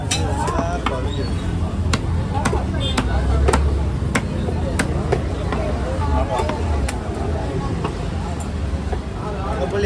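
Sharp knife chops through an arakola fish at a busy Kasimedu fish market stall, a regular series of short hard cuts spaced under steady crowd babble and market noise.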